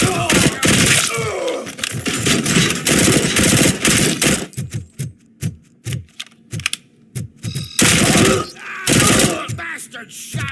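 Rapid automatic gunfire in the RoboCop: Rogue City video game crackles in loud dense bursts, then breaks into scattered single shots and short volleys before another heavy sustained burst.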